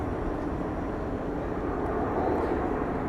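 An aerobatic airplane pulls a tight turn and dives at the Paris Air Show at Le Bourget, its engine a steady, heavy roar with broad rushing noise throughout and no talk.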